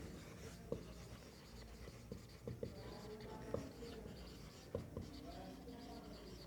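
Chalk or a marker writes a relation between temperature scales on a classroom board, faint scratchy strokes with a few sharper taps over a steady background hum.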